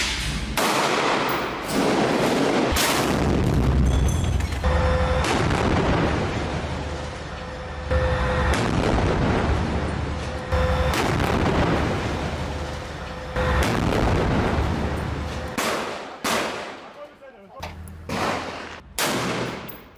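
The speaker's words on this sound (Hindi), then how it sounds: "हमास के ठिकानों पर इजराइल के टैंक गोले बरसा रहे हैं।" Israeli tanks firing shells on Hamas positions in Gaza, heavy booming blasts and rumbling explosions, some close and loud, repeating irregularly amid sustained gunfire and battlefield din.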